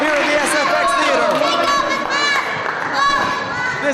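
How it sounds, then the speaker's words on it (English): A wrestling crowd at the SFX Theatre chanting and cheering for the Irish Dragon, a dense, loud wall of many voices with rhythmic shouted swells throughout. "this crowd chants for the Irish Dragon here in the SFX Theatre"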